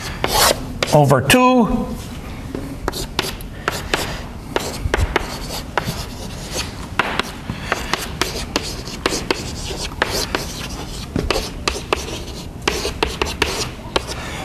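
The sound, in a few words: writing out an equation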